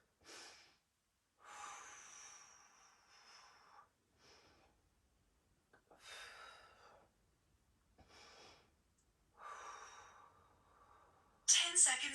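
Deep breaths taken during a live follow-along stretching workout, several separate inhale and exhale bursts with pauses between, close and fairly quiet, ending in a louder sharp breath.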